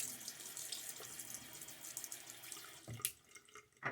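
Tap water runs steadily into a sink for rinsing during a shave, a close, bright splashing stream that briefly breaks and gurgles near the end.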